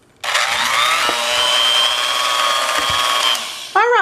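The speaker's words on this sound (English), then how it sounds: "now with the mixer on low, we're going to beat this for the next 3 minutes on low." An electric mixer starts up and runs at low speed beating fruitcake batter, a loud steady motor whine holding for several seconds, then dips briefly before a rising, wavering whir near the end.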